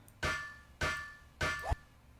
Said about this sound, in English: That is it for our repair hammer, our armorer's hammers